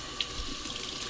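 Warm tap water runs steadily from a faucet over wooden rolling pins in a kitchen sink, with a continuous close splashing hiss and one small knock near the start, without speech.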